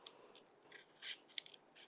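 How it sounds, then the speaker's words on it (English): An apple is peeled by hand for a Waldorf salad, with faint, close scraping and soft rasping strokes in irregular short bursts, quiet and without talk. "So I'm just going to peel the apple"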